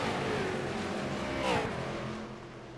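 Race cars running on the track at Five Flags Speedway, a steady engine drone that swells as a car passes close around the middle and then fades slightly, with a commentator's voice faintly underneath.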